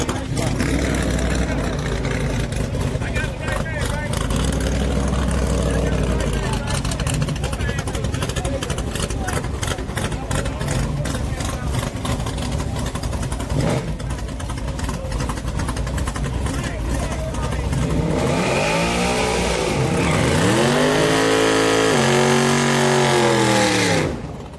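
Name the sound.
motorcycle engine revving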